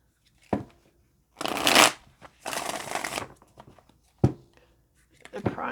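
Tarot cards riffled and shuffled in several separate bursts: two long, loud shuffles flanked by short sharp snaps of cards being squared or tapped, close up with no talking.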